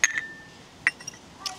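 Glasses clink together in a toast during a casual drinking game at home: a bright clink at the start, another a little later, then a faint one near the end, with soft background chatter.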